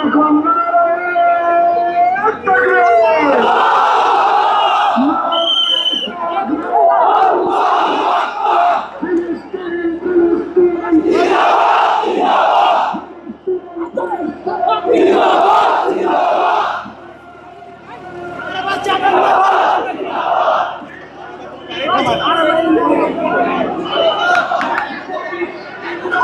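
Large rally crowd in Bangladesh chanting slogans in loud rhythmic unison, repeated call-and-response bursts with short pauses, dense and close throughout.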